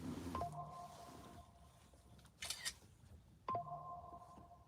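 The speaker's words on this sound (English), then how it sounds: "Couple notifications coming in" Two short bright electronic phone notification chimes, each a clean ringing tone, sound a few seconds apart at a quiet level with no talking.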